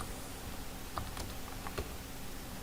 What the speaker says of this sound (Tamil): இப்போ நான் சென்னைன்னு டைப் பண்ணுறேன்.